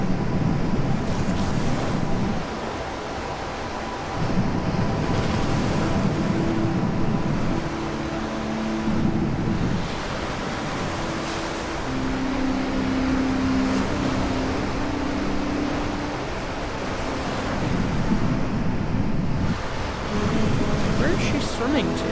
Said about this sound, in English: Waves are huge.